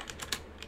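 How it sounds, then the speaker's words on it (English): Short burst of typing on a computer keyboard, a few quick clicks close by with no voices. "I'm going to type in how many slaves"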